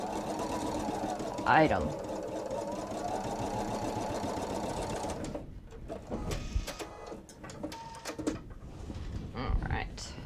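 Sewing machine stitching quilted tote fabric, a steady continuous motor whir with a fast mechanical rhythm for about five seconds, then stopping, followed by scattered handling clicks and rustles while a person speaks briefly.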